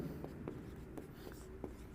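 Pen scratching across paper in short intermittent strokes, fairly quiet and close, with a steady low hum beneath and no talking.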